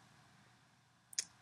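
A brief double keyboard click near the end, two keys struck quickly in succession while typing a vim delete-word command, fairly faint over a quiet background.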